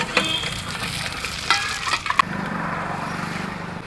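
Whole garam masala spices (black cardamom, cinnamon, cloves, black pepper, cumin, mace) sizzling in hot oil in a pan, with a spoon stirring and scraping, then a steady close frying hiss.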